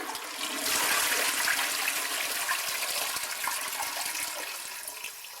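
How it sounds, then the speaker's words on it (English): A toilet in an Australian bathroom flushes with a loud rushing gush of water that swells quickly, holds steady for several seconds, then begins to ease, heard close with no talking. "this is how all the commodes flush"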